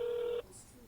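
A telephone line tone after a call is hung up: a single steady, loud tone holds for about 0.4 seconds, then cuts off abruptly, leaving only faint line hiss.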